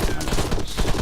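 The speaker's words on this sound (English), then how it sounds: "there does feel like there's a great deal of weight behind each of these shots" Heavy rifle shots from the military shooter game ArmA 3, a dense run of booming game gunfire packed close together, loud and continuous with no pause across the brief moment.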